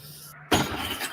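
Glass breaking with a sudden loud crash that follows a quiet stretch and a short silent gap, then a rough, scattered crackle of debris that trails on to the end.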